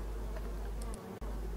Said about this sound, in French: Donc on peut voir que ce sont de belles abeilles noires